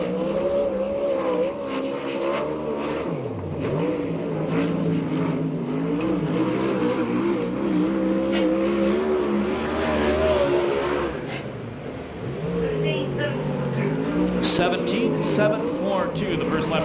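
USAC National and CRA sprint cars racing a lap at Perris, California: a sustained, buzzing high-revving engine drone with rising and falling pitch as cars pass, under an announcer's voice.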